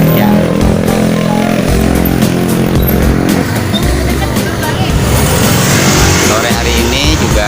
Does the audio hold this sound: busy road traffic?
yes